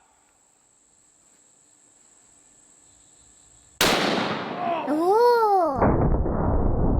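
A 4 bore rifle fires a 570 grain brass solid in one sudden loud blast, and a voice reacts with a wavering exclamation right after the shot.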